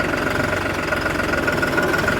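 New Holland 5510 Excel 4WD tractor diesel engine running in gear, a steady knocking mid-pitched drone with constant vibration, close and loud, no voices.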